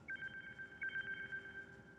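A phone dials a call, a short run of quiet, rapid electronic beeps and tones in two bursts, close and faint, with no speech.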